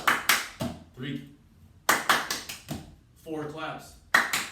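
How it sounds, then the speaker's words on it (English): Sharp hand claps made while catching a tossed object come in quick clusters of three to four crisp claps, repeated several times, close and loud with a voice talking between the bursts. "4 claps"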